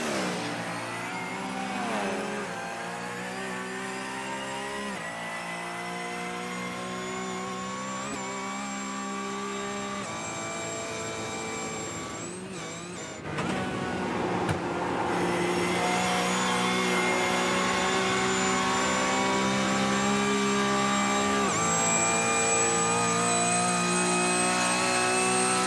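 Race cars at full speed through the tunnel on the Nürburgring Nordschleife in a DNLS endurance race, engines screaming and shifting pitch as they pass, loud and echoing, with a sharp surge of engine noise midway.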